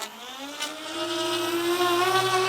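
An RC Avios PBY-5A Catalina model seaplane, 1900mm wingspan, takes off as its electric motors whine and rise steadily in pitch and loudness, a continuous close drone with no talking over it.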